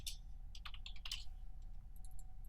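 A computer keyboard is typed on rapidly during a Maya rigging session, producing an irregular flurry of close, crisp key clicks that cluster and pause, with no talking.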